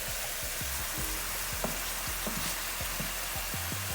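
Meatballs for spaghetti browning in a frying pan give off a steady close sizzle, with scattered soft pops and crackles throughout and no talking.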